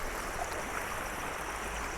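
Clear water from a small river runs behind a restaurant between terraced fields near Almora, a continuous gentle burbling rush, steady and moderately close with no voices.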